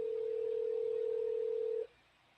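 A steady telephone dial tone, a single flat hum held for nearly two seconds before cutting off abruptly into quiet line noise, with no voices.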